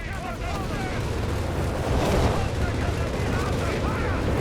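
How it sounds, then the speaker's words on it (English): Strafing-run gunfire in the video game Company of Heroes 3, a dense, continuous roar of rapid shots and booms with a voice talking over it. "But they are strafing a unit inside of a building"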